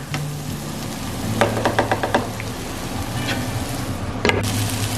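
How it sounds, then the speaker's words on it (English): Vegetables and capsicum stir frying in a pan, a steady sizzle with bursts of quick clatter as the food is stirred and tossed, close by with no talking. "Some of those veggies are getting nice and charred, and the capsicum's soft and kind of stir fried but not ridiculously soft."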